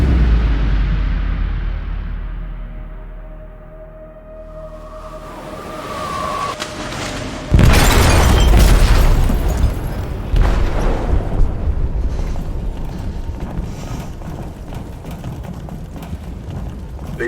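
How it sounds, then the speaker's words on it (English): An explosive detonates in a ship's hold in the video game Detroit: Become Human. A swelling low rumble breaks into a sudden loud, close blast, followed by sustained crashing, roaring debris and deep rumble. "They detonated an explosive in the hold."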